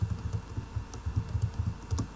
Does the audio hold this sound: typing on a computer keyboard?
yes